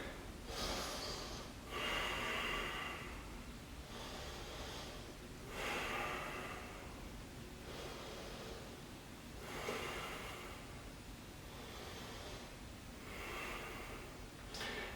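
Deep, slow breathing during a yoga pose: airy inhales and exhales repeat in a steady cycle about every two seconds, soft and close, with no talking over them.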